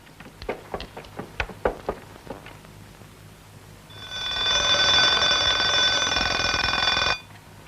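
An alarm clock rings loudly and steadily for about three seconds, a bright continuous metallic ring set for a 2 a.m. wake-up before a mountain climb, preceded by a few sharp clicks and knocks.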